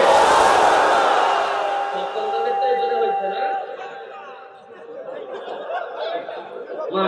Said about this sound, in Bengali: দেখি 35-এর উপরে যারা, তারা একটা তাকবীর দেন, লিল্লাহে তাকবীর